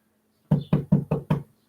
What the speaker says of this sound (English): A knock at the door.